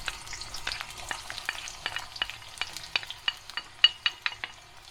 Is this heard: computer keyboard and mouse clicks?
no